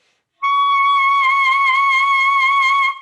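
A single sustained instrument note on an altissimo B flat holds for about two and a half seconds with wide, regular vibrato pulsing through it, loud, close and alone.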